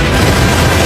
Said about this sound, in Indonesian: mengamuk dan membuat ledakan besar dengan kekuatannya